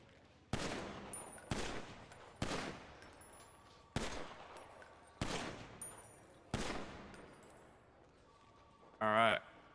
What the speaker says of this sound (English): Sergeant Hayes and I are gonna shoot 3 rounds each